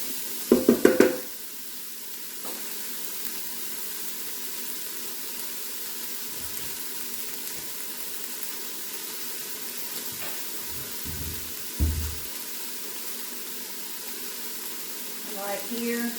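Vegetables sweat in a Ninja Foodi pot with a soft, steady sizzle, broken by a few utensil knocks and clanks at the start and near the end; a person speaks at times.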